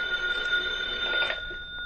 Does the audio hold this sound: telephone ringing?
yes